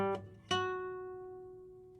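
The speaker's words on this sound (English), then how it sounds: "what you're hearing now is now the string" A single plucked guitar string rings out an F sharp, with two clear attacks and a long sustained tone decaying steadily afterward, up close with no talking.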